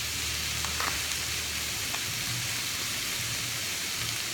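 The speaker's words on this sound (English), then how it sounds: "So if you let that saute, keep moving it every now and again" Beef for a steak sandwich sizzles loudly and steadily in a grill pan, a dense continuous crackle close up with no talking over it.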